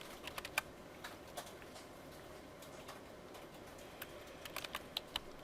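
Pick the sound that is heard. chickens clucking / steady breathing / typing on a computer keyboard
typing on a computer keyboard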